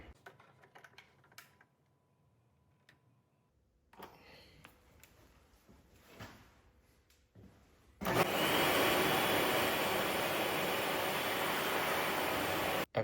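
An Aike AK2812 budget 120V electric hand dryer, newly installed, starts after some faint handling noises and then blows with a loud, steady roar of rushing air until it stops abruptly.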